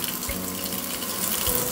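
Steady running tap water flows into a sink while rice is rinsed, a continuous close splashing stream with no talking.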